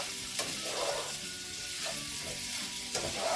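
Onion sizzles and fries steadily in a skillet still greasy from cooked beef sausage, a continuous close crackle with a little stirring and no talk.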